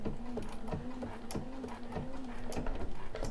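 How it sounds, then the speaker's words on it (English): A sewing machine stitching in place to lock a seam, giving a quick run of rapid mechanical needle knocks over a steady motor whir, close and alone. "I can hit my little knot again, and it will stitch in place at that point"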